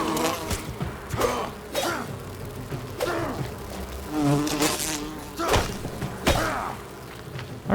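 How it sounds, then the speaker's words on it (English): Insect-like buzzing during a bee battle in the video game Enshrouded, a dense, loud drone broken by repeated thumps and impact hits throughout. "Let's get the bee battle out of the way pretty early."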